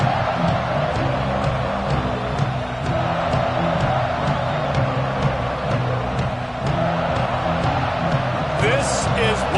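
Stadium crowd at a Georgia vs Alabama college football game, a steady roar filling the background beneath continuous play-by-play commentary.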